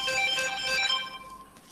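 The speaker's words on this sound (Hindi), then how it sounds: "इसका फोन आ रहा है" A mobile phone rings with an incoming call, a bright melodic ringtone with layered tones, fairly close and clear, fading out toward the end with no talk over it.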